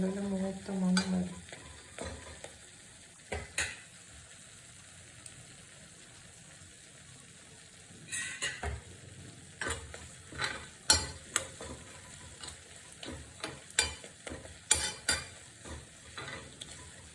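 Grated coconut roasts in a pan for jackfruit curry while a spoon stirs it in scattered scrapes and clinks, with a soft sizzle underneath; close, fairly quiet, no voices.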